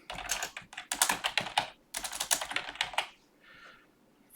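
Rapid bursts of typing on a computer keyboard, close and clear, with irregular clusters of keystrokes separated by brief pauses, then a quieter stretch at the end.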